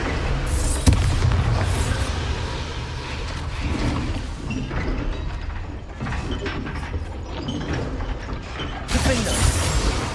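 Bombarda spell explosions in the wizarding game Hogwarts Legacy, loud booming blasts and clanking mechanical crunches rolling through a busy combat mix, with a sharp burst at the start and another near the end.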